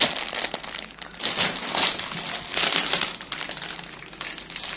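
A small child handles a plastic bag at night, producing continuous close crinkling and crackling with irregular bursts over about five seconds.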